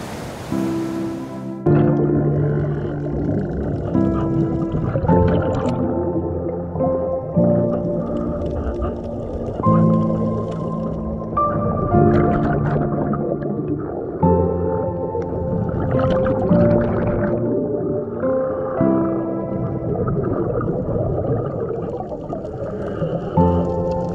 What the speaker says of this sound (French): La baleine dans la face, les gars.